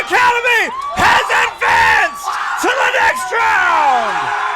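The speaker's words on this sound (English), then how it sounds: "the crowd going wild" A crowd at a boys' high school soccer match erupts in wild cheering, whooping and yelling after a penalty shootout win, loud and continuous with shouted voices rising and falling.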